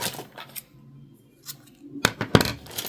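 Scissors snip through crochet yarn while finishing a hat: a couple of quiet clicks and rustles early, then two crisp, close snips near the end, with no voices.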